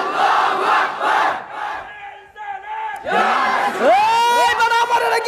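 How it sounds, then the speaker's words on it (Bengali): A crowd at a Bangladeshi religious gathering shouts the takbir, Allahu Akbar, in loud, massed voices, with swelling, overlapping chant surging in waves and a brief lull before a renewed roar. "আরেকটা তাকবীর দিই আল্লাহু আকবার"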